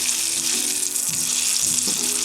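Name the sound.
food sizzling in melted butter and olive oil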